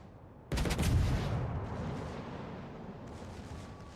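Warship secondary guns fire in a naval combat game, a sharp loud burst of rapid shots opening into a rumbling, decaying roar with a few more distant reports later, no talking.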